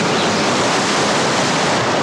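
Rough river water rushing, a loud, steady, broadband roar of turbulent flow that holds unbroken throughout with no voices.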